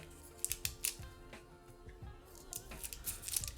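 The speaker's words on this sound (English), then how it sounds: "I'm just going to tape off the end of this just so I don't get dot fluid everywhere" Adhesive tape wrapped around the end of a detached Shimano XT hydraulic brake hose on a mountain bike, with soft crackling and snipping sounds in short irregular bursts, close and faint.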